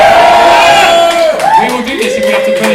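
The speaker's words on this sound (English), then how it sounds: "Give me a cheer if you want to talk more about the cult thing" A comedy-night audience roars and cheers loudly and continuously, with rising whoops and shouts cutting through the sustained crowd noise.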